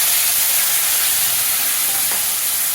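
Black cumin seeds and a spice mixture sizzling steadily in hot oil in a pan, a continuous close hiss with no talking.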